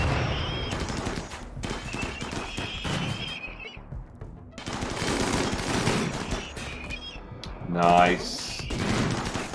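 Gunfire from Lancers shooting at turrets in the game Rimworld, with rapid bursts of shots and clattering mixed with game sounds and a neighing horse, under and between talking.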